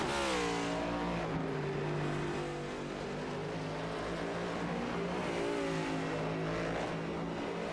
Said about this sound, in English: he's coming through the last couple corners here to start the white flag lap